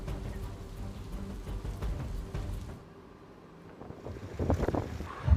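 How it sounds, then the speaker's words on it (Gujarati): Heavy monsoon rain pours steadily over a flooded road in Kutch, Gujarat, a dense, constant hiss that dips briefly midway, then returns with a few louder splashing bursts near the end. "કચ્છમાં જે રીતે છેલ્લા 3 દિવસથી વરસાદ પડી રહ્યો છે"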